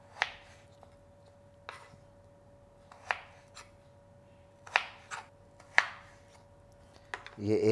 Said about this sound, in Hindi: अब आपने इसको पहले ऐसे ब्लॉक्स में कट करना है, आलू को चकोर करके